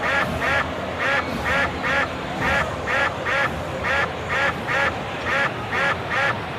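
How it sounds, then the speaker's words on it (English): Ducks quack in a steady, rhythmic series of about a dozen loud calls across a pond, with a low crowd murmur and ballpark noise underneath. "Ducks all over the pond."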